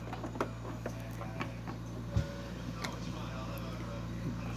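A home sewing machine hums steadily as it stitches a cotton and lace quilt block, with a back stitch at the end of the seam, a continuous low motor drone with faint ticks under the needle and a sharp click partway through.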